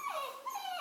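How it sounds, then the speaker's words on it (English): A retriever puppy named Cora whines in a high, wavering tone, one drawn-out whimper sliding downward then rising again, close and fairly loud with no talking over it. "What are you whining for?"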